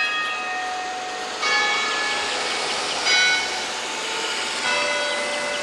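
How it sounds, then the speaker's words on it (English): Church bells chime outdoors near a church with tall spires in Charleston, three ringing strikes about every one and a half seconds, bright overlapping tones that linger over a steady background rumble. "but the chime sound nice anyway"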